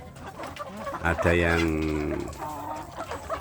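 Free-range village chickens on a small farm, with a loud nearby rooster crow rising over steady clucking from the flock and someone talking throughout.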